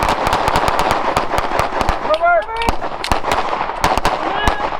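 Rapid handgun shots crack in dense, overlapping strings during partner drills at the Thunder Ranch defensive handgun course, loud and sharp, with brief shouted voices partway through.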